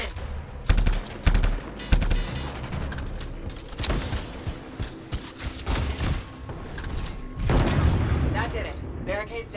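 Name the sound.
bomb exploding in the video game Anthem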